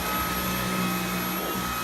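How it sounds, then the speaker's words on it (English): Dyson V11 Animal cordless stick vacuum running steadily on a rug, a continuous close whirring motor hum with a faint high whine and no talking. "So when I had this on plus, it was very hard to vacuum this rug."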